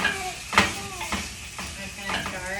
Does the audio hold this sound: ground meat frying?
yes